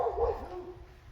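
Dogs bark and yip in a short burst in the distance behind a lawn, a few quick calls and a whimpering tone over a low outdoor rumble.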